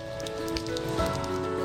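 Rain pours over streets and alleys in a Punjab city on a hot summer day, a steady, even patter and hiss of drops with a faint tonal hum beneath, continuous and moderately quiet.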